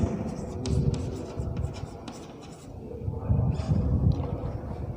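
Marker or chalk scratching steadily across a board during a Class 12 biology lesson on linkage and recombination, close and continuous with short strokes and brief pauses, a faint voice in the background.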